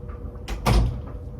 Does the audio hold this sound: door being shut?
yes